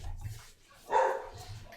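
A single dog bark in the Dark Souls game, short and moderately loud, with a low rumble before and after and no talking.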